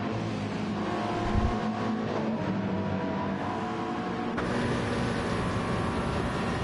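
Many race cars in a racing game at Daytona jostle through the Le Mans chicane, a dense wash of engine drone and revving that stays loud and continuous, with a sharp shift in tone partway through.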